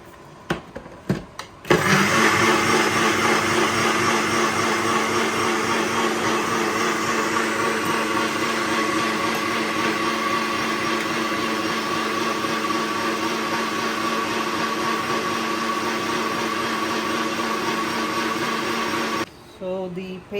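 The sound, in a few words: blender grinding coconut, chili, coriander and turmeric paste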